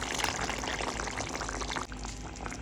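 Coconut milk is poured into a simmering bitter gourd curry, a steady close splashing pour with bubbling liquid that runs throughout, with a brief dip near the end.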